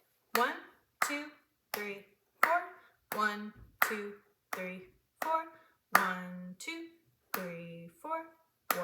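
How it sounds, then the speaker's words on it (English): Hand claps mark a steady rhythm in a music lesson, eleven or so sharp claps spaced about one per beat, close and clear, each landing on a spoken count from one to four. "I'm gonna clap and count it for you so you have something to base it off of"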